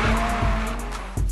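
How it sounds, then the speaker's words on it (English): A car drifting at a competition track, its engine droning loud and close while the tires squeal in a steady, sustained screech that swells briefly near the end. "but I can drift."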